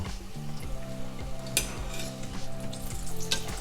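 Chimichangas fry in a pan with a steady, close sizzle, while a spatula clatters and scrapes against the pan in short, rhythmic bursts.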